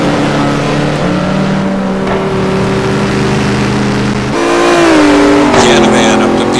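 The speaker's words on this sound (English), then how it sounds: "Aaron has got that car going sideways" Race car engine at Suzuka as the car slides sideways, a loud sustained drone whose pitch steps and bends while revving, overlaid by commentary.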